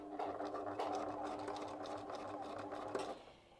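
A domestic sewing machine stitches a few forward and reverse stitches through fabric, producing a steady, fairly quiet mechanical whir with rapid needle ticking that stops abruptly near the end.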